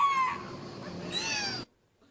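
A trained whale gives two tonal, voice-like calls in sequence, a falling whistle-like tone and then a rising one, close and clear, ending abruptly in quiet.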